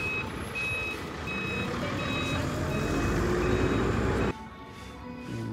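A bus maneuvering at an entrance in Kaohsiung, Taiwan, its high reversing beeps repeating over a loud rumbling engine; the engine noise drops away abruptly near the end while faint beeping continues.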